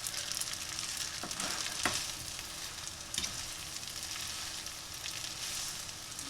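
Spinach and gorgonzola pasta sizzles and fries steadily in a pan, with a few faint clicks and scrapes from stirring. The sound is quiet and constant, with no talking.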